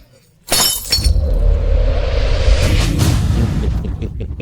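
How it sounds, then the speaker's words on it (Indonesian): A precious antique smashing, a sudden loud crash followed by a long rush of shattering glassy fragments scattering and tinkling for several seconds, close and alone. "Antik berharga ini hancur begitu saja."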